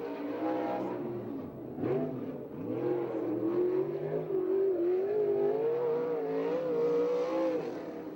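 A 410 non-wing sprint car engine howls through a qualifying lap at a Victorville, California track, its pitch rising and falling through the corners before climbing steadily down the straight, heard from a moderate distance.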